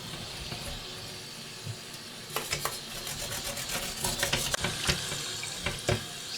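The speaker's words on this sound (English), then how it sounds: "It's hard to get everything flushed with water." Tap water runs into a bathroom sink as a Commodore C128 computer case is rinsed, a steady splashing flow with louder bursts and clattering spatters as the plastic shell is moved under the stream.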